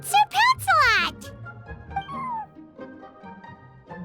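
A feisty video game kitten meows twice in quick, high, rising cries, followed by softer scattered chirps and mews under light background game sounds.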